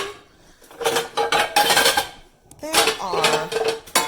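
Metal pots, skillets and lids are handled in a series of clanks and clinks, bursts of clattering separated by short pauses, close and loud, with a brief voice at the start.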